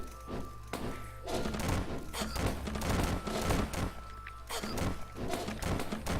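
Dense, continuous video game gunfire with ricocheting shots, rapid overlapping bangs and thuds at close range, loud throughout with no break in the action.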